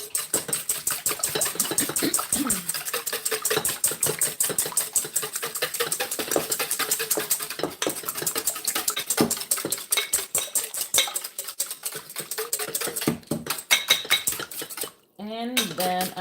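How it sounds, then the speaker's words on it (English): Eggs and melted butter being beaten for banana bread batter, a rapid steady clatter of utensil against bowl that runs almost without a break, loud and close, with a short pause near the end. "I'm gonna throw the eggs in here. And then I'm gonna throw in the melted butter and beat it up a little bit."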